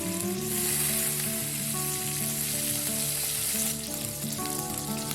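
Curry leaves and green chillies hit hot oil with fried mustard seeds and cumin while making avarekalu uppittu, giving a steady loud sizzle and crackle throughout with no talking.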